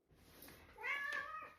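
A house cat meows at close range in a home with a baby, a drawn-out rising and falling call of about a second, fairly soft, with no talking over it.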